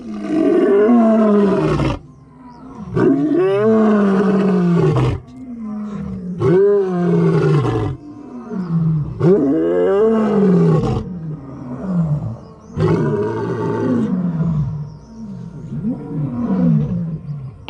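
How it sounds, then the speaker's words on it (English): Several lions in South Africa roaring together, deep drawn-out roars rising and falling in repeated bouts with brief gaps, loud and close, one voice overlapping another. "It was an emotional experience to hear all the lions roaring"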